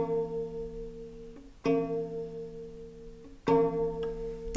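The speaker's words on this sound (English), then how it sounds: "So I place it on top of the G string," Violin G string prepared with a medium clothespin, plucked pizzicato: a few sharp twangy plucks with ringing, buzzy sustain, close and clear in a quiet room.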